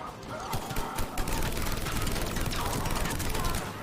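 Weapon fire in the video game Mass Effect 3: a dense run of sharp, rapid shots with crashing bursts, swelling to a loud, sustained barrage before tapering off.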